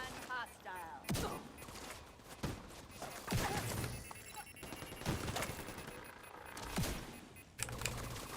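Sharp bursts of automatic gunfire crackle in the shooter game The Division 2, scattered among a steady game soundscape and quieter clicks.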